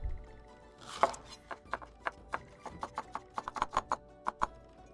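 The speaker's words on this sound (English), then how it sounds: "I'm just going to slice up half a pepper, a green pepper." A knife slices through half a green pepper on a cutting board in a steady series of crisp, close chopping taps, roughly a dozen evenly spaced strokes with no talking.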